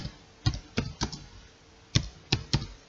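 Typing on a computer keyboard: about seven sharp, separate keystrokes in two short clusters with a pause between, close and clear in a quiet room.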